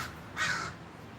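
A single crow caws once, close and clear, a short harsh burst that stands out against faint outdoor background noise.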